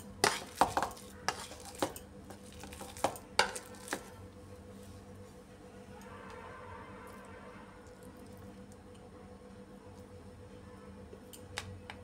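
Boiled potatoes are smashed with a masher in a bowl, giving a string of sharp metallic clacks and knocks in the first few seconds, then softer, quieter squishing and scraping.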